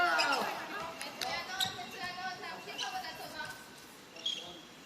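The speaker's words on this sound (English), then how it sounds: "Mizrahi with the bouncing ball, blocked by WANG Chunyan." A goalball fitted with bells bounces across the court in a women's Paralympic semi-final between China and Israel, rattling with a few sharp bounces under a commentator's voice.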